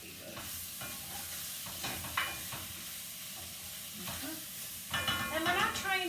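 Venison browning in a hot pot, a steady close sizzle with stirring scrapes and a few louder bursts of frying toward the end.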